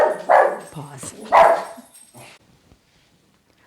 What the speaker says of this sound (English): puppy heard a puppy and started to go nuts